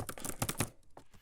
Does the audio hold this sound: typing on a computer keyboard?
yes